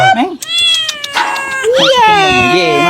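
An Angora cat meows repeatedly and loudly while being bathed, its drawn-out, wavering cries close up, with people talking over and between the calls.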